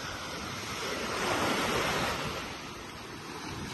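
Surf rolls onto the beach at Playa Pelicanos on a Saturday, a steady broadband wash that swells and recedes, with no voices.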